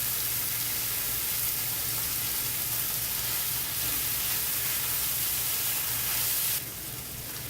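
Chicken thighs fry in a pan over moderate heat with lemon, herbs and garlic, giving a steady, close sizzle with a low hum beneath; the sizzle continues for the whole stretch, easing slightly near the end.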